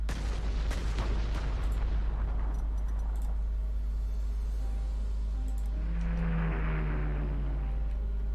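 Artillery fire in the Panzer Corps 2 wargame: a loud booming blast opening the clip, with rumbling decay and scattered crackling over a sustained low drone, followed by a softer whooshing tone near the end.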